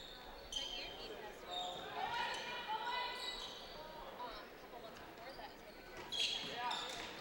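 Basketball bouncing on an indoor court during a women's college game, repeated dribble thumps mixed with sneaker squeaks and crowd murmur, moderately distant and steady throughout.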